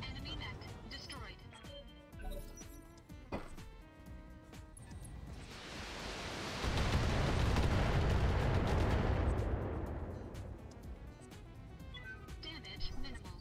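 Heavy gunfire and a roaring explosion as an enemy mech is destroyed in a mech combat video game, with scattered shots before a loud, sustained blast in the middle that fades out, a voice speaking over it.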